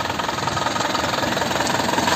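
A 1997 Isuzu Panther Royal's 2.5-litre diesel engine idles close by with a steady, rapid knocking rumble and no break or change in pace.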